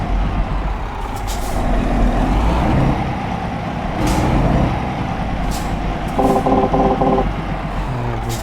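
A truck pulling a timber trailer turns in Euro Truck Simulator 2 with a loud diesel rumble, several sharp hisses of the air brakes, and a short burst of beeping partway through.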